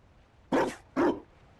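Two loud, close dog barks about half a second apart, the second slightly shorter, from a hound in the fantasy video game Dragon Age: Inquisition – Trespasser.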